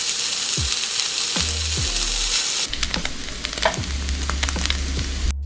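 Chopped leftover pulled pork sizzles steadily in a pan over medium heat, a continuous close frying hiss with a few scrapes and stirring knocks partway through.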